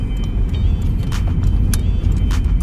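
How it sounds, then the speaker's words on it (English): Steady car engine rumble fills the background, a constant low drone with faint metallic jangling rising briefly above it, loud and continuous with no talking. "I know I got the car in the background, jumble jangling"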